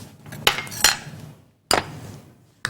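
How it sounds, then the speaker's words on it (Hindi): A spoon stirs almonds into tava chana in a metal pan, giving several sharp clinks and scrapes spaced irregularly, close and fairly clear. "ये बादाम हम इसमें डाल देंगे और अब मैं इसको करूँगी अच्छा सा मिक्स।"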